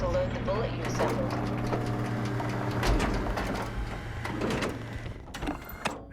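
A pilot seat powering up in the video game SOMA gives off a continuous motorized whirring hum with a low steady drone that lasts several seconds, then ends in a few clicks, set against ambient background noise.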